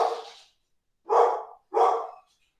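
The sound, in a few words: dog barking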